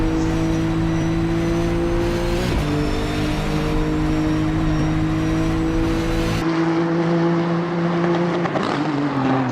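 Several GT3 race cars run together in a racing video game, a steady layered engine drone with sustained high revving, one car's pitch shifting abruptly partway through as the mix changes.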